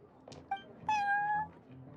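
A cat meows in the game Genshin Impact: a short chirp, then one clear drawn-out meow that rises and fades, close and fairly quiet against soft background ambience.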